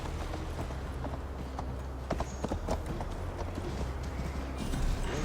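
Horse hooves clip-clop steadily as a rider travels in the video game Assassin's Creed Valhalla, a rhythmic series of close, distinct hoofbeats over a low ambient bed, picking up slightly toward the end.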